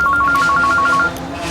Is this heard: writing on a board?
no